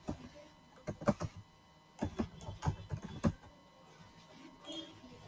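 Short clusters of crisp keystrokes on a computer keyboard during Excel data entry, a few quick taps in bursts with pauses between, fairly close and moderately quiet.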